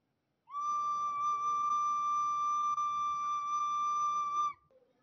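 A recorder holds a steady octave D note for about four seconds, clear and pure with faint overtones, played alone in a quiet room.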